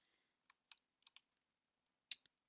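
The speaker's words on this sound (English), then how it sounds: "So here I'm controlling the car with my keyboard" Computer keyboard keys are tapped to steer a car in a Unity game, with a handful of sparse, isolated clicks at uneven intervals, quiet and close, the last press a little louder.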